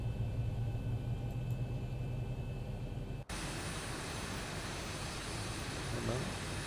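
Boeing 737-800 engine starting in a flight simulator game: a steady low mechanical hum that abruptly shifts to a louder, broadband jet-like roar partway through, holding constant afterward with no voices.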